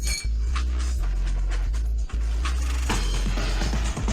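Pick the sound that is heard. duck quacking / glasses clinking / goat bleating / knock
glasses clinking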